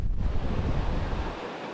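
Ocean surf rolling onto the beach at Ocean Isle in North Carolina, a broad steady wash of waves mixed with wind buffeting the microphone, loud and close before easing off at the end.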